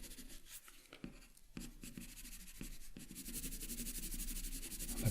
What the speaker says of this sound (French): Je vais prendre mon 8B, et le 8B va servir pour renforcer un petit peu le contraste par endroits.